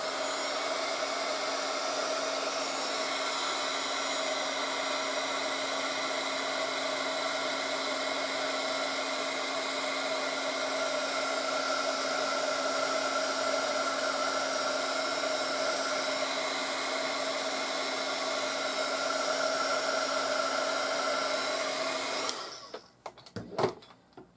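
A hair dryer runs steadily over a watercolor seascape painting, a loud constant whir with a high whine that holds for about twenty-two seconds before cutting off, followed by a few soft clicks and knocks.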